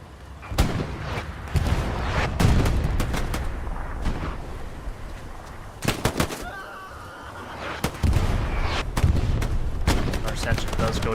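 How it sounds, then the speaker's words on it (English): In the Hell Let Loose WWII shooter, a satchel charge detonates amid a competitive match, heavy booms and close gunfire bursts cracking loudly in irregular clusters over ongoing battle noise. "Satchel does blow up and kill a bunch of people."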